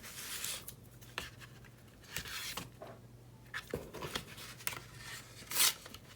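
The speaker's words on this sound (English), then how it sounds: "So now let's put some more of our tape" Adhesive tape being pulled and pressed onto a paper folio album, with soft scattered rubs, short tearing pulls and light tapping, quiet and close, with a brief sharp crinkle near the end.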